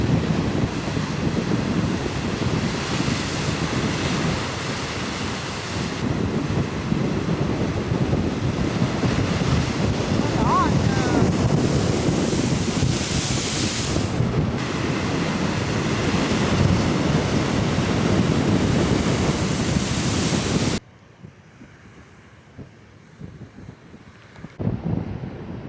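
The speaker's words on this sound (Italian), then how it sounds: "le onde entrano dentro le scoglie e fanno effetto geyser" Ocean waves surge into the rocks on the Lanzarote coast and burst upward like a geyser, a loud continuous roar of surf mixed with wind buffeting the microphone, dropping to quieter wind near the end.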